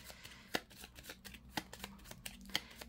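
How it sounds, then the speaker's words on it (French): Tarot cards shuffled by hand, quiet close riffles and soft slaps with sharp snaps of the deck at regular intervals, about one per second. "Je vais mélanger ça et on va placer les cartes"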